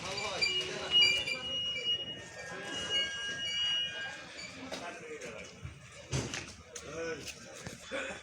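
Diesel locomotive approaching along the platform at Parbatipur Junction, a busy rail station, its rumble and clatter mixing with crowd chatter, clanks and a horn-like tone, moderately loud throughout.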